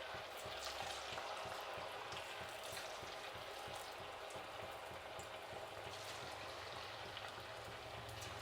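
Spiced potato kebab pieces fry in hot oil, giving a steady, dense sizzle and bubbling that runs the whole time without a break and with no voices over it.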